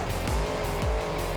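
Gravedigger monster truck drifting in BeamNG Monster Jam, tires squealing loudly and repeatedly over a steady, close engine drone, with no talk.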